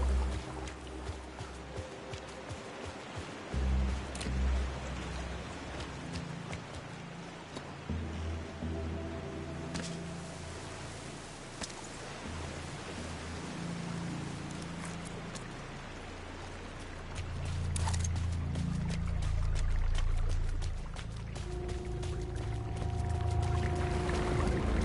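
Creek water in a video game, a continuous rushing, splashing flow with scattered droplet clicks and low gurgles that swell louder toward the end, alone without talk.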